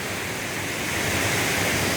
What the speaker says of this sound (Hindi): ये झरना था जिसे हम निकले हैं, ऊपर से आ रहा है बहता हुआ